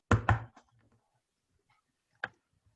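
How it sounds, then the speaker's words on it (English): Two quick knocks at a door, sharp and close together near the start, followed by a faint low rustle and one more isolated knock after a pause. "2 quick knocks are heard at the door"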